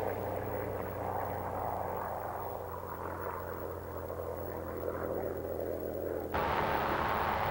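A steady drone of WWII P-51 Mustang fighter engines as the planes take off, continuous and fairly distant, swelling louder and brighter toward the end.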